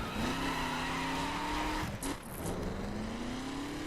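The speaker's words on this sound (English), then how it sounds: "they just take control away from me so I can skid to a stop" A car in the racing video game The Crew skids to a stop, its engine whine holding steady before a brief sharp tire squeal, then the motor settles back to a constant drone.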